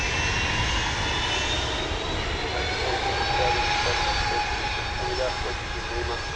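A Boeing 757 jet roars as it rotates on takeoff at DFW Airport, a loud sustained engine drone with rising whine tones, heard from a distance throughout.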